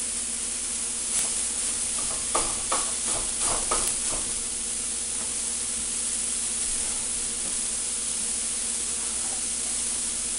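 Ground beef broken up in a frying pan over medium heat, sizzling steadily and closely with a few scraping, stirring clatters early on, then settling into an even hiss.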